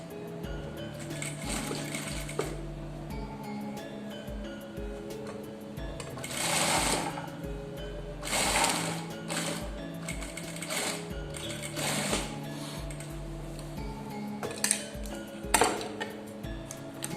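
A sewing machine stitches a blouse seam toward the lining, with bursts of steady mechanical whirring separated by short pauses and ticking, close up and fairly loud with no talking.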